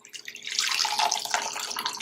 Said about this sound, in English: we're going to strain this directly into the cup